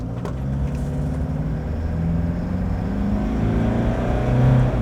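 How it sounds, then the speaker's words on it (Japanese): A 3000cc turbocharged Zil 520 camper van pulls hard away from a stop on a slight uphill, its engine drone steady and loud, swelling toward the end, with no talk over it. "次ちょっと強めに踏んで法定速度までの加速をリアルタイムで測ってみます"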